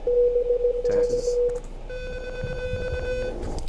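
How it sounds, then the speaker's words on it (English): Morse code keyed over a ham radio: a steady tone in short on-off bursts, uneven and hesitant, followed by a longer keyed stretch with a second tone underneath, fairly loud and close, with no talk. "You just saw me send some bad Morse code there."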